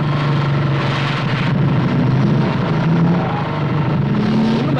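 A car engine runs steadily and loudly, with a droning low rumble and slight shifts in pitch as it rolls along.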